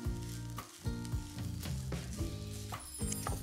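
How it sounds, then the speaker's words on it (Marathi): Fresh grated coconut filling sautés in ghee over a low flame, giving a steady, close sizzle with soft scraping stir strokes throughout. "हे सारण आहे ना एक 7-8 मिनिटं छान परतून घ्यायचं तुपावर मंद आचेवर"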